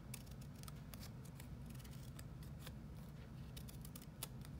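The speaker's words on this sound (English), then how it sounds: "I'm going to cut into the centre of the flowers" Small scissors snip repeatedly into the centres of paper or card Christmas rose flowers, a close, quiet series of crisp, irregular cuts over a faint background hiss.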